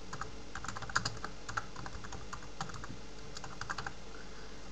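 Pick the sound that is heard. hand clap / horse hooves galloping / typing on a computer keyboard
typing on a computer keyboard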